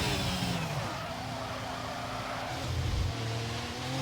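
A race car in a sim racing game speeds down toward turn 6 at Abu Dhabi, its engine droning steadily with shifting pitch and a brief rev rise near the end, heard alone.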